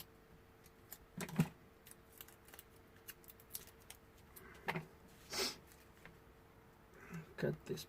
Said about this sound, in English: Cut these plastics,